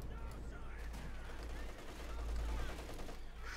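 Distant artillery-like thumps and bursts of battle gunfire rumble in a Company of Heroes 2 match between World War II armies, fairly faint and steady, with a caster's commentary over them.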